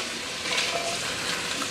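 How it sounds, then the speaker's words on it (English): Onions sauté in a hot pan while being made into a pickled jalapeño dish, giving a steady, even sizzle with light stirring, close and without talk. "We're going to get our onions cooking until they're almost translucent."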